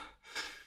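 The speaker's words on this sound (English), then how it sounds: "sorry for the heavy breathing" A single heavy breath from a man, a short close gasp with a sharp rushy inhale in under a second, faint and breathy.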